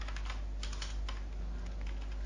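Rapid clicking of keys on a computer keyboard, close and continuous with uneven bursts of keystrokes, no voices.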